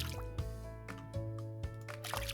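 Watering freshly seeded fields in the farming game Farm Rogue: soft, quiet liquid drips and splashes in a few brief bursts over steady game music.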